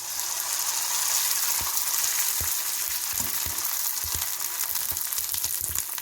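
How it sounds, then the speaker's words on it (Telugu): Onion fryums deep frying in hot oil, a steady dense sizzle and crackle with scattered soft pops and knocks, close and continuous throughout. "ఇంక ఇప్పుడు వీటిని మనం డీప్ ఫ్రై చేసుకోవచ్చు"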